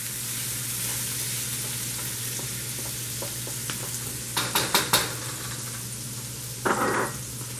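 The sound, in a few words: chicken chow mein stir-frying in a pan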